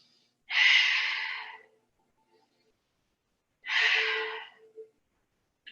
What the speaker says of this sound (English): Take a couple breaths here